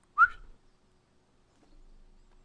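A voice imitates a creature's whistle with a single short, sharp rising whistle near the start, followed by near silence.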